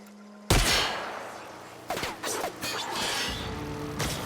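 Gunfire in the sci-fi game The Outer Worlds: a loud blast bursts in after a quiet start, followed by several more sharp shots and impact crashes over a steady roar of combat noise.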